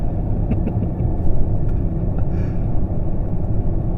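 A 2025 Zeekr X AWD electric car accelerates hard, producing a loud, continuous low rumble of road and wind noise that swells slightly without any engine note.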